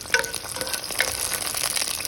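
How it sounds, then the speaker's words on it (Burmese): Chili flakes fry in hot oil with a steady, close crackling sizzle, broken by a couple of sharper pops and stirring scrapes, and no voices. "ကြော်မဲ့ဦးတွေကိုတော့စီနှဲငယ်ထည့်ပြီးငရုတ်တီးချောက်ကိုအရင်ဆုံးကြော်ပြီးလိုက်ပါတယ်"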